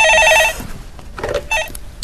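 A telephone rings with a bright, electronic trill during a Korean stock-market call-in show. The loud, regular bursts fill the first half second, and softer repeats of the ring follow faintly.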